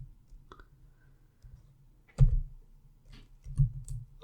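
A few sparse keystrokes on a computer keyboard while writing a SQL order by clause: soft, separate clicks at irregular intervals, with two sharper taps standing out against near silence.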